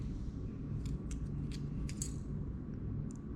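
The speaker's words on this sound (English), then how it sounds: "So let's peel it." Foil wrapper peeled off a chocolate euro coin, a few faint, brief crinkling rustles scattered over a low steady background hum.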